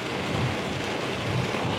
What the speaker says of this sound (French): Il pleut de dingue, je sais même pas là si vous m'entendez, mais il pleut de dingue.